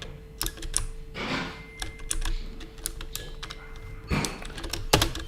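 Rapid clicking keystrokes on a computer keyboard during a live coding session, with irregular bursts and a couple of louder heavier thumps, close and clear with no talking.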